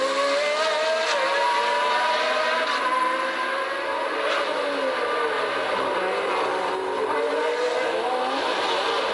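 Formula 1 race cars at the 1981 Long Beach Grand Prix, with an Alfa Romeo pressing close behind a rival, roar steadily past at high revs, their engine notes rising and falling as they sweep through.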